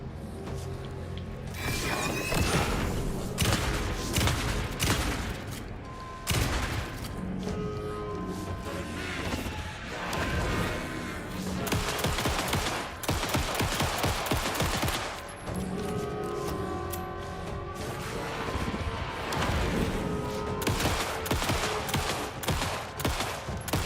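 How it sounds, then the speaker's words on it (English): Shotgun blasts and pistol fire in the video game Alan Wake 2 come in dense, repeated volleys with crashing impacts and game effects, loud and close throughout the whole stretch. "Shotgun and then pistol."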